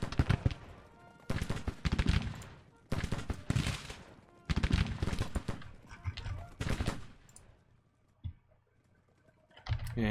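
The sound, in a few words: gunfire in the video game Grand Tactician: The Civil War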